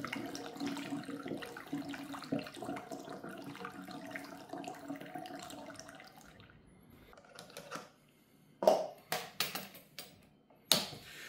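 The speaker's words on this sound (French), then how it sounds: "il ne te reste plus qu'à remplir tes bouteilles avec ton kéfir" Fruit kefir is poured into bottles as a steady, trickling stream of liquid that runs for several seconds, then stops and gives way to a few scattered clinks and splashes nearby.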